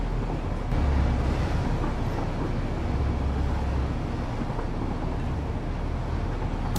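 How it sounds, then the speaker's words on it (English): Steady, loud rumbling roar of a train passing in the video game Satisfactory, a continuous rolling drone with deep low-end throb that holds evenly throughout, with no voices. "So this train doesn't stop here"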